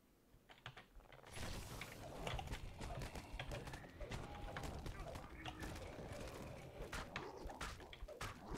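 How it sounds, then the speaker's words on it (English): Bird-themed area attack from a monk in the online game DDO, a busy burst of chirping, fluttering bird-like calls with clicky crackles layered over game noise, rising sharply after a quiet first second and staying dense. "Let's try the bird AoE."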